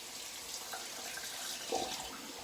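Tap water running while lather is rinsed off a razor blade, a soft steady hiss of flowing water at a sink, faint and close, with a couple of brief splashy knocks near the end.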